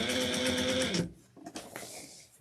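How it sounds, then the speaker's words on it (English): Sewing machine stitching a tote bag seam at 1/8 inch, a fast steady mechanical whir for about a second that stops abruptly, followed by faint handling clicks and rustles nearby. "now I'm going to sew 1/8 of an inch to close this"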